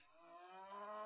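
Cattle mooing in the Age of Empires video game, a single drawn-out low moo rising slightly in pitch over about a second, clear and close with no talk.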